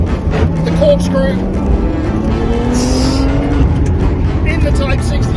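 Type 62.2 race car accelerating hard through the corkscrew at Laguna Seca raceway, its loud engine roaring with rising pitch throughout while a voice talks over it.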